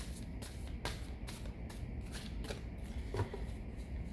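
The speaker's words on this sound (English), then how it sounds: "I'm going to clear the cards. These cards are huge for my small" Oversized tarot cards are shuffled by hand in soft, rhythmic riffling bursts about every half second, quiet and close with papery slaps.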